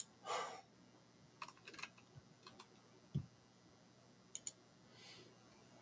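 Sharp computer mouse clicks, some in quick doubles, scattered across a quiet background with faint light tapping between them.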